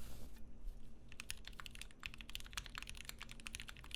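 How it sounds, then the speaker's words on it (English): A Wilba.Tech Thermal+ keyboard fitted with Gateron Black Ink switches being typed on steadily, a dense run of crisp keystrokes heard up close and alone after a brief quiet start. "I'm going to type a little harder and then a little bit softer."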